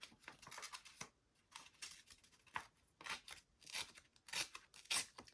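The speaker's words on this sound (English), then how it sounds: "I'm just going to give it a rip here to give that jaggedy edge of my collage" Paper ripped by hand to make a jagged collage edge for an envelope journal, heard as a series of short, crisp tearing strokes in an uneven rhythm, close and fairly quiet.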